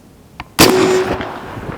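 A single sharp, loud report from an air shotgun fired outdoors while squirrel hunting, preceded by a faint click and followed by a brief decaying tail, with no talking.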